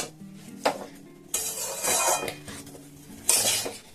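Laddu ingredients being mixed in a pan, with scraping and clinking of a utensil against metal coming in bursts, close and fairly loud, with quieter pauses between strokes.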